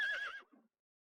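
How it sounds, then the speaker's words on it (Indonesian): A horse whinnies once, loud and close, the neigh falling away after about half a second and ending in a short, low snort-like tail before silence. "Kenapa kuda hari ini tak patuh?"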